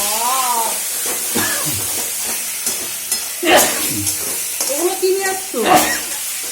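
Egg curry sizzles and spits in hot oil in a home kitchen, a steady frying hiss running beneath people talking close by.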